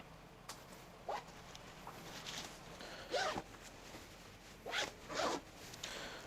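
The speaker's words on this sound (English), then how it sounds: "But zipping those down" The crotch zip on puffy insulated mountaineering pants is worked in several short, rasping zipper pulls, close and fairly soft, spread out with pauses between them and no talking.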